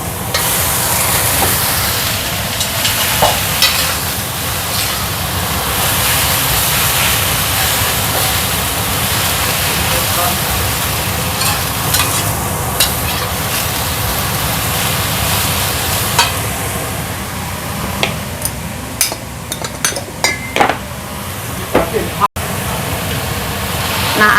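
Shredded cabbage fries and sizzles in a pan with chili, a splash of water and rice wine, a loud steady hiss running throughout with scattered scraping and clattering as it is stirred.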